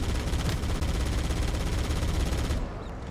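Rapid, dense gunfire from a video game shootout rattles nonstop at close range, loud and continuous, easing slightly at the very end.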